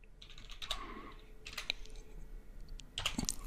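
Typing on a computer keyboard in short bursts of quick, light key clicks with pauses between them, close and fairly quiet, no voices.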